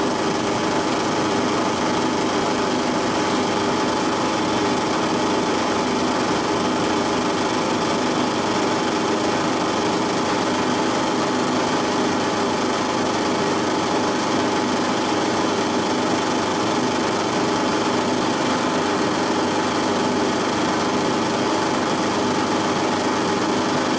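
Fine drill bit spinning steadily as it bores holes into a wooden dovetailed tray, a continuous high-pitched motor whine holding level and fairly loud for the whole stretch with no talking.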